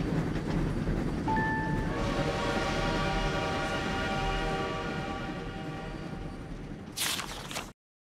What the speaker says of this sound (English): The Friendship Express is taking the ponies to Canterlot, where Princess Celestia is waiting for them